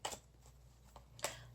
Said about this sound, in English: Just going to give this a shuffle.